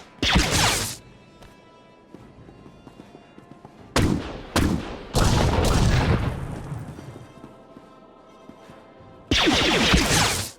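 Loud bursts of blaster-style gunfire in a sci-fi firefight from Star Wars: The Old Republic, several separate volleys spread out with quieter gaps between them.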